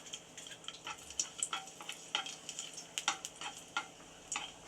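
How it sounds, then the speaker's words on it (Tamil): Raisins frying in ghee, a quiet crackling sizzle with irregular ticks and pops from the hot fat, close by and without voices. "இப்போ 8 திராட்சையும் இதில் பொரிச்சு எடுத்துக்கலாம்."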